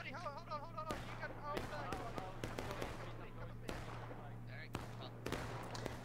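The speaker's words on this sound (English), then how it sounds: "That artillery shot just missed." Artillery cannon fire in a Civil War video game at a historical rules event: several sharp, distant booms and cracks scattered through a battle soundscape, mixed with musket pops and a steady low hum.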